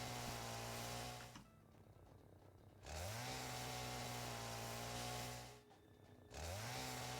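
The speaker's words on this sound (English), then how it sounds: "Do I have my chainsaw on me?" Chainsaw in the video game Satisfactory clearing vegetation, two long loud revving bursts with a brief drop in between and the engine spinning back up.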